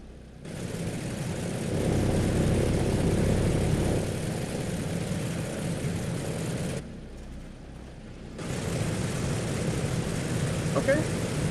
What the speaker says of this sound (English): so engine number 4 is on